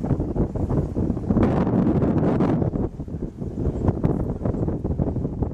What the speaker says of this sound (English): Wind really picking up here.